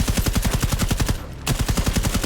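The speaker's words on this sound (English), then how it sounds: "when you get wall bangs like that" Automatic gunfire in Rainbow Six Siege rips through a wall in rapid, evenly spaced loud bursts, breaking off for a split second before the fast shots resume.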